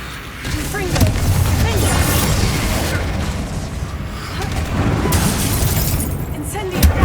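Confringo spell explosion from Hogwarts Legacy: a loud, sustained booming blast with shattering debris and rumble, heard under energetic shouted speech throughout.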